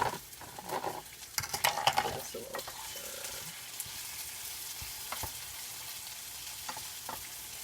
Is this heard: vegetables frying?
yes